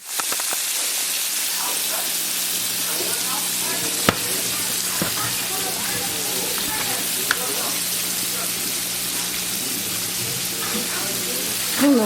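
Jamaican curry chicken and shrimp frying on medium heat, a steady broadband sizzle throughout with occasional stirring clinks, close and fairly loud.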